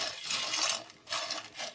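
Raw peanuts poured into a hot pan over high flame, a quiet rattling shower of small hard nuts in two bursts with a short break between, no voices.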